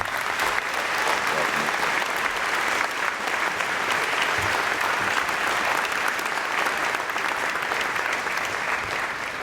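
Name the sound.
audience applause welcoming convocation speaker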